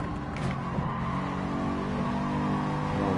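Race cars roaring in GT Sport traffic during an FIA GT championship race, a loud continuous engine drone with rising revs and cars passing close by, no talk.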